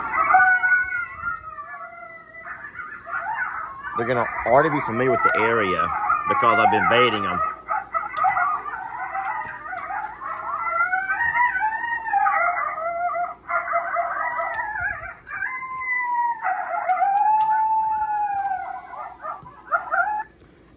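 An electronic coyote locator call plays loud wavering howls and yips, with a burst of overlapping yips in the middle, continuing over someone talking nearby.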